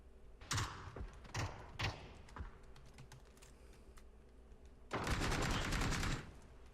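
Suppressed weapon fire in PUBG comes as a few short muffled bursts, followed by a longer, louder volley of rapid shots, with sparse clicks between them and no talk.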